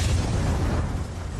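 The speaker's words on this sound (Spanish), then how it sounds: "la explosión generó un estruendo tan grande que se escuchó a 800 kilómetros de distancia" Deep, sustained roar of the Mount Pelée volcanic eruption of May 1902, a dense, loud rumble that holds steady for the whole moment with no voices.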